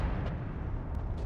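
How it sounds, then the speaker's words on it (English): A deep, rumbling explosion in the video game Noita fills the whole short moment with a loud, sustained low roar and a few faint crackles. "I had to like run away from it because I was scared by what the explosion was gonna do"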